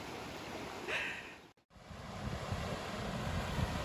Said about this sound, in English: We just thought we'd come down and have a look at this beautiful river